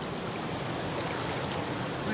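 A creek in southern Oregon gold country rushes steadily below a small cliff, a continuous broadband wash of flowing water that stays close and even throughout, with no talk over it.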